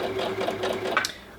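A Jade 20 sewing machine stitches fabric for a reusable Christmas cracker, a steady rapid needle chatter with a faint motor whine, close up and alone.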